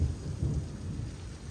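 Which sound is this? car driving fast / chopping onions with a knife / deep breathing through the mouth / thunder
thunder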